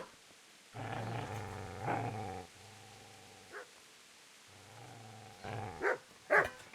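A dog growls in Kingdom Come: Deliverance, two sustained low snarling passages with a pause between them, then short sharper yips and snaps near the end, close and fairly loud with no talk.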